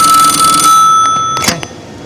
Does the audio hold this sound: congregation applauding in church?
no